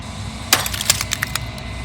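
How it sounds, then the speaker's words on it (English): A mirror cracking into glass shards in the video game Slay the Princess: a sharp splintering crack followed by a quick series of smaller brittle snaps, close and clear over a low background hum. "A crack slides down the center of the mirror, splitting the image in the glass in two"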